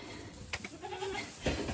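Baby goats bleat in a sheltered pen on a farm, a couple of short wavering cries close by over a low background rumble.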